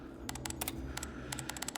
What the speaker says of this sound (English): Sam resumed typing